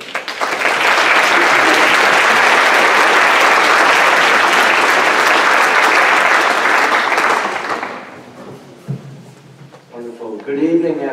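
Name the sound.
audience applause welcoming speaker Craig Johnson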